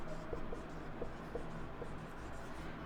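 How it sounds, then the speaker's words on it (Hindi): Marker or chalk strokes on a board in a nursing classroom, a few short faint scratches spaced out over a steady low room hum, with no talk. "यहां पे लिखता हूं"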